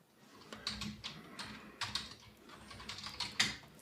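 Someone types a field name on a computer keyboard, producing a run of irregular, crisp, close key clicks spread over a few seconds, with no voices.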